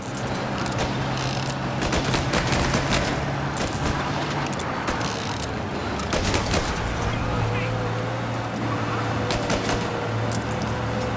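Gunfire in Mafia: Definitive Edition cracks out in quick, sharp repeated shots over a steady car engine hum and busy game noise, with a voice talking now and then.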